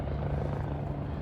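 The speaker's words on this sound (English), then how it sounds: "there's a helicopter just arriving now, and looks like JP's helicopter." A helicopter arrives at a racecourse, its steady rotor and engine drone holding loud and continuous throughout with no voices.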